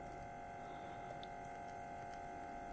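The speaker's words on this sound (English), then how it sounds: "all you got to do is wait for the pump to go" A small drink-foaming pump runs steadily, giving a constant low mechanical hum with a faint watery churn and occasional tiny ticks as the liquid foams up, with no one speaking.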